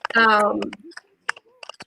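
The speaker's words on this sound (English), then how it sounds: "this typing is driving me crazy" Computer keyboard typing comes as scattered, close clicks and taps after a brief voice at the start, the keystrokes sparse and uneven.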